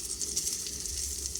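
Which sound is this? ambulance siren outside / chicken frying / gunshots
chicken frying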